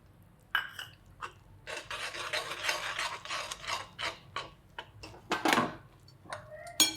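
Crushed peanuts being stirred into hot jaggery syrup in a pan for peanut chikki: a continuous scraping, rasping churn with irregular clacks of the spoon against metal, close and moderately loud, with no talking.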